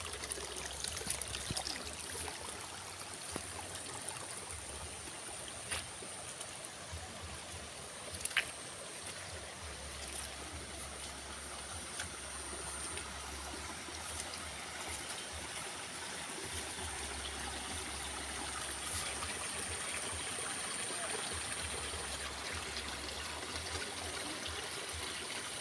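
Stream water flowing through a quiet village in rural Jampangkulon, Sukabumi, a steady soft trickle and wash continuing evenly for the whole stretch, close and low in level.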